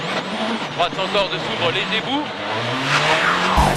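Rally car in WRC 2007 video game sliding off the road onto grass, engine roaring and tires scrubbing over a steady game soundscape, with commentary talking over it throughout.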